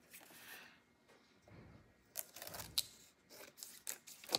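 Scissors snip through craft material for a farmhouse sunflower hanger, close up and fairly quiet, with several crisp cuts clustered toward the end amid soft handling rustles.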